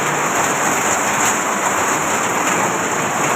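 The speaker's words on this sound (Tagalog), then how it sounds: "Maulan, may bagyo." Heavy storm rain during a typhoon in Tondo, Manila, a dense, continuous hiss of downpour on surfaces, loud and steady with no voices.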